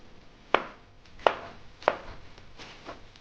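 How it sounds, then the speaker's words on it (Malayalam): Three firm knife chops on a cutting board, evenly spaced about two-thirds of a second apart, then fainter cuts follow as onions, potatoes and green chillies are cut for an egg curry. "അപ്പം മുട്ടക്കറിക്ക് ഞാനിത് 2 ഉള്ളി എടുത്തിട്ടുണ്ട്, 2 ഉരുളക്കിഴങ്ങ് എടുത്തിട്ടുണ്ട്. അപ്പോൾ നമുക്കിത് നോക്കാം. ഒരു 3 പച്ചമുളക് എടുത്തിട്ടുണ്ട്. അപ്പോൾ ഇതെല്ലാം ഒന്ന് അരിഞ്ഞ് നമുക്ക് റെഡിയാക്കാം"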